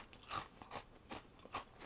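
Sharp, close crunches from biting into a matcha karinto, a sugary fried Japanese snack, come in several quiet bursts of crisp chewing with no talk.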